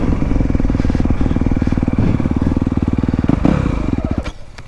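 A 2025 Honda CRF250 Works Edition dirt bike engine pulls hard while riding, a loud, close, rapid four-stroke pulse that holds steady and then eases off at the end.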